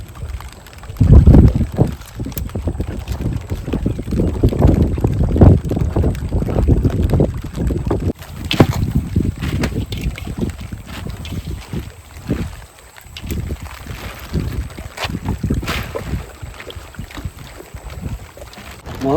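Small fishing boat engine on open water for net fishing, rumbling low and steady for about twenty seconds with wind buffeting the microphone and uneven surges.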